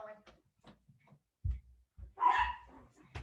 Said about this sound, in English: They have been sleeping all morning and now they decide they need to bark